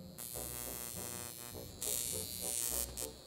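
An electrical stimulation device shaped like a toothbrush buzzes steadily once switched on, a thin electric hum with a brief dip partway through and a slightly louder stretch afterwards.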